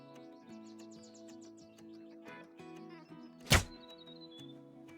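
A single sharp rifle crack in a New Zealand hunt in the Call of the Wild game, loud and sudden over a bed of chirping birdsong and faint musical tones.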